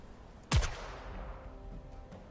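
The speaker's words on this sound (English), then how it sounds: "Dorothy fires her weapon into the air. The gunshot resonates with a bang" A single sharp gunshot from Dorothy firing her weapon into the air in Goddess of Victory Nikke, a loud close bang followed by a ringing decay that fades over a second or more.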